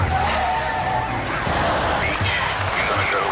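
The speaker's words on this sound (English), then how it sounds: "But the teenager behind the wheel guns it." A suspected drunk driver's car, driven by a teenager, accelerates hard away from police, engine roaring with tire squeal and skidding noise, loud and continuous, with a narrator's voice over it.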